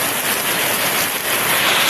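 Steady, dense rain falls outdoors, a loud continuous hiss with no voices over it.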